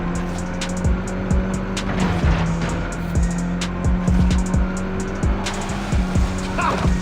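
Race cars roar along a freeway in Forza Horizon 5, engines droning loud and steady with repeated quick whooshes and tire noise as they pass.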